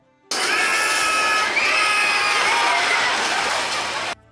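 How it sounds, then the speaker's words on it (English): A loud recorded yell rings out at a wooden roller coaster as the train crests the first drop, merged with a steady roar of crowd cheering and shouting for about four seconds. "whenever a train crests it, you hear a lumberjack loudly yell"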